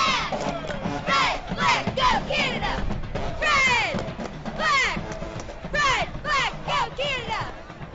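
Local cheerleaders cheer for Team Canada at the 2009 IFAF Junior World Championship gold medal football game, a crowd of voices yelling and whooping in rising, overlapping bursts that rise and fall steadily throughout.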